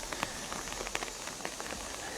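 Steady rain pours down in Doda in the Chenab region, a dense patter of drops on surfaces with a few sharper splashes, continuous and fairly close with no voices.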